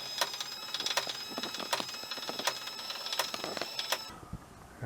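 Moes WiFi smart blind controller motor running as it opens a window blind, a steady faint whir broken by sharp irregular clicks and ticks, then stopping abruptly near the end.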